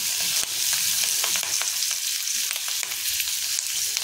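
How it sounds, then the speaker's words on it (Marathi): Chopped green chillies fry in oil with asafoetida in a pan over a low flame. A loud, steady, close sizzle runs throughout, with small pops and the scrape of stirring and no talking. "त्याच्यामध्ये हिंग टाकून घेतलेले आहे आणि कट करून घेतलेली मिरची टाकायची आहे"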